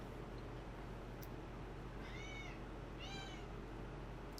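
Two short cat meows inside the video game Nancy Drew: The Shattered Medallion, a second apart, moderately clear over a steady low background hum.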